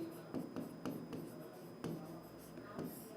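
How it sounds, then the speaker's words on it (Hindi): Chalk or a marker writes on a board in short scratchy strokes and taps, a quick irregular series of close strokes with brief pauses between them. "अब हम यहाँ लिखते हैं पुस्तकम"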